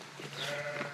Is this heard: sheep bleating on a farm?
yes